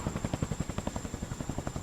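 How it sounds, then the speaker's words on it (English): A helicopter hovers overhead, its rotor beating in a fast, steady thump at moderate volume, alone with no other sound. "For 30-plus seconds, the helicopter sat above them"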